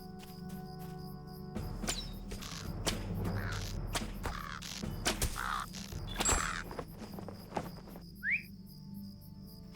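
Crows cawing in the Lord of the Rings Online game world around Ost Guruth, a few harsh calls amid a busy ambient mix of insect chirring, clicks and sharp game effects, fairly quiet overall.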